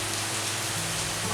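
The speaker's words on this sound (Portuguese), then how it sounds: "Não sei se estão ouvindo uma chuva que está caindo aqui" Steady rain falling outside a home in Pará, Brazil, a continuous broadband hiss with no pauses, fairly loud and close, with no voices over it.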